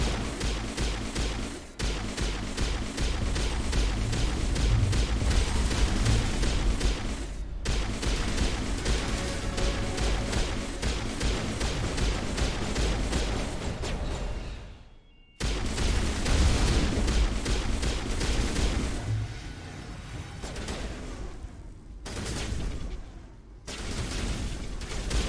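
Pistol fire from the video game Mass Effect, a dense, loud, nearly continuous barrage of shots with booming impacts, broken by a short pause midway before resuming.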